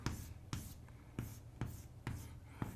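A pen writes a truth table by hand on paper, giving quiet scratching strokes with soft taps at the start of each, about six in an irregular rhythm, close and faint.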